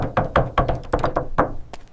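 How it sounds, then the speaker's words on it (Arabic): Several sharp knocks on a door in a quick irregular series, close and loud, with no talking. "شكون كيدق في الباب؟"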